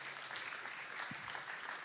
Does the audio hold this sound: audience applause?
yes